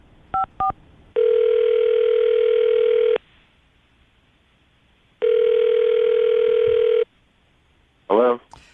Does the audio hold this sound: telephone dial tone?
yes